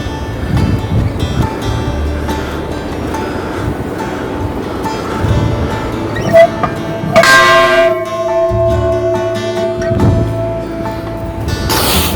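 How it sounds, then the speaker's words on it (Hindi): A large bell at Kalpeshwar Mahadev temple in Uttarakhand rings out, its sustained metallic tone carrying over steady outdoor wind and ambient rumble, with a brighter clang around the middle. "काफी बड़ा घंटा है ये मंदिर का।"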